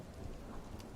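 A thunderstorm plays in the strategy game Master of Command: a soft, steady hiss of rain under a low, distant rumble of thunder, faint and continuous.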